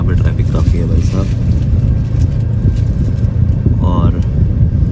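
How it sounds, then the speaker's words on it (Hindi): Busy road traffic in Bangkok below a flyover, a steady rumble of passing cars and engines close by, with someone talking over it throughout. "तो ट्रैफिक बैंकॉक में काफ़ी है, पतिया में नहीं था, बट यहाँ पे ट्रैफिक काफ़ी है भाई साहब।"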